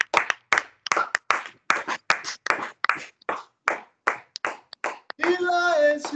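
A church congregation at a Sunday service claps in irregular bursts of sharp hand claps, then breaks into loud sung acclamation near the end.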